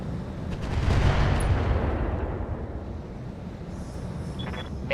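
Heavy mech weaponry firing in the RogueTech game: a loud broadband blast swelling around the first second, then a long rumbling decay with a faint high tone near the end.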